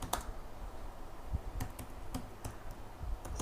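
Light clicking keystrokes on a computer keyboard, quiet and close, typed in short irregular bursts with small pauses while text is entered during Android app coding.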